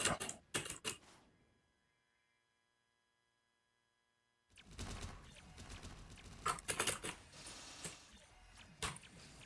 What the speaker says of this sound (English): Pressing arrow keys is kind of a grief.